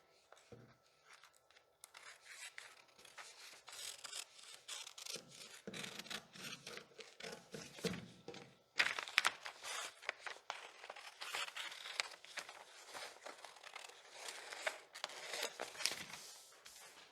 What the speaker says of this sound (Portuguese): Vou cortar, já vou aproveitar e cortar a cava aqui também